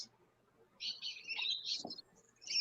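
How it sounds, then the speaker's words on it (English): Small birds in the Philippines twitter in a quick, high run of chirps, with a faint, brief sound from someone nearby partway through. "Just birds, just little birds around the place, aren't they?"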